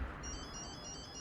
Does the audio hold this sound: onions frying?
no